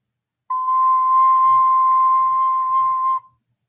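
A single sustained whistle-like note C on a beginner's wind instrument, blown with slow relaxed air, holding steady for close to three seconds alone with no talk over it.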